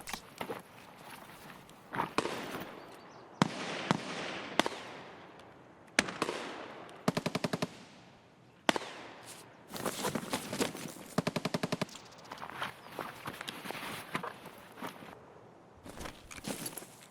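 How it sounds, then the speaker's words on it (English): Gunfire from a first-person shooter set on the Customs map of Escape from Tarkov: bursts of rapid automatic fire and single sharp shots, some near and loud, others distant, scattered across the stretch with short pauses between volleys. "I heard those shots coming from over there as well."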